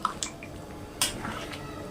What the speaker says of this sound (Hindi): मैं डाल दी हूँ यहीं पर पानी और इसे चला देते हैं।